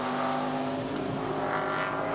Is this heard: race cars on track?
yes